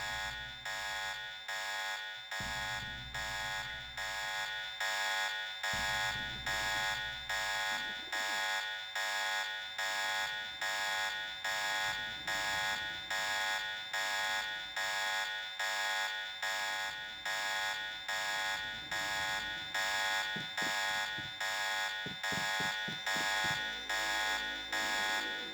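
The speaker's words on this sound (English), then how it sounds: "The alarm is gonna go away in just a minute, it's fine." A repeating electronic alarm rings continuously in the Deus Ex video game, a steady pulsing buzz-tone cycling about once per second, loud and unbroken throughout with faint low game rumbles beneath.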